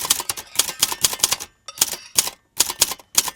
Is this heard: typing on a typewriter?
yes